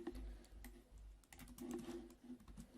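Fingers type on a computer keyboard in quick, uneven runs of soft clicks, close and quiet over a faint hum.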